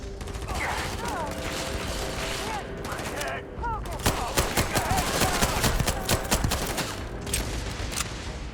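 Gunfire crackles in the video game Starfield, rapid bursts and repeated shots during a firefight, loud and dense over game music and effects.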